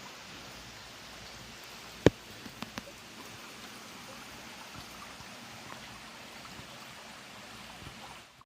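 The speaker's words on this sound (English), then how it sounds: "You can see the water flows." Water running steadily through an old restored irrigation channel, a soft continuous burble and trickle heard close by, with a sharp knock and a few small clicks early on.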